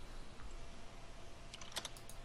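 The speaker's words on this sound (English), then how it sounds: "I keep typing the wrong thing somehow" Brief burst of computer keyboard typing, a quick cluster of soft key clicks near the end over low background hum, with no speech.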